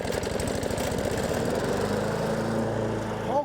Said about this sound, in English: Paul Kokendorfer knows just how to start a stubborn lawnmower